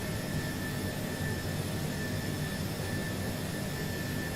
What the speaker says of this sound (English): There it is, throttle climb, set.